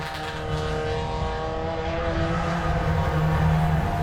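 A race car engine drones steadily at full speed during NASCAR-style racing at a WA Sporting Car Club nationals meeting, a loud sustained tone with a slight rise in pitch and no commentary over it.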